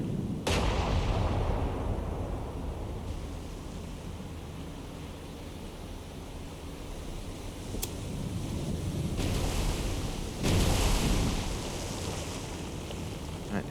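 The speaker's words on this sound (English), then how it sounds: "his shots are getting closer again" Naval gunfire from the battleship Ise in the naval combat game War on the Sea: booming blasts with rumbling roll, one sharp report near the start and another heavier one near the end, over a steady wash of sea and wind noise.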